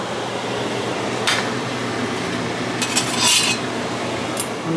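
A big spoon stirs rice in a pot, giving a steady scraping and mixing noise with a few brighter clinks of metal against the pot, close by and without talk.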